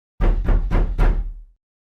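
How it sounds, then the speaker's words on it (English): Four firm knocks on a door, close and evenly spaced, with a short, resonant ring after the last one. "Then I heard a knock on my door."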